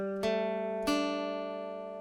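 A guitar chord shape fretted at the third fret rings out twice, two distinct plucked attacks less than a second apart, each left to sustain and slowly decay, close and with no talking.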